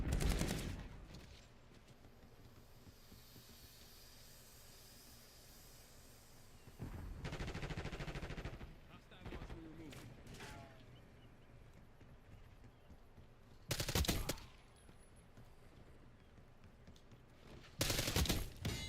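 Bursts of automatic gunfire from a Fortnite or Call of Duty match, several loud volleys at the start, middle and end, with quieter game ambience in between.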